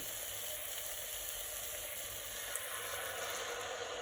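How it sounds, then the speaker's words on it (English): Coconut milk hitting curry paste in a hot pan for a spicy noodle soup, a steady close sizzle with constant frying hiss and no voices. "I'm going to add some coconut milk."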